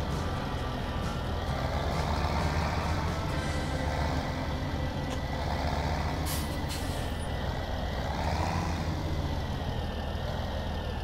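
A truck reversing to hitch up trailers: steady loud engine rumble throughout, with sharp hissing air-brake bursts near the middle and a few faint beeps, close and continuous with no talk.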